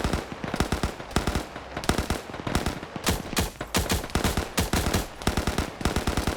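Gunfire from a multiplayer OFCRA PvP match, with a shotgun among the weapons: a dense, loud run of sharp shots, some in rapid bursts, going on steadily without talk.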